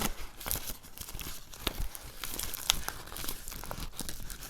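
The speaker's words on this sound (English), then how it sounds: "Ooh, that plastic piece coming off." Plastic piece peeling and crinkling off cardboard on a papier-mâché Rapunzel craft, close-up irregular tearing and crackling with sharp little snaps.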